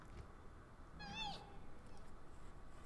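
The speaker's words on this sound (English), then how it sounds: "So we need to take our pet kitty with us." A pet cat in the video game Pathfinder Kingmaker gives a single short, clear meow about a second in, over a quiet game background.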